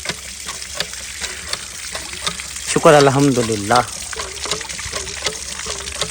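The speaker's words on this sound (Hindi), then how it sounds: "पानी देखें माशाल्लाह से ठाठे मारता हैंड पंप पानी दे रहा है" A hand pump is worked outdoors, its handle creaking in a steady rhythm while water gushes and splashes continuously; someone briefly speaks partway through.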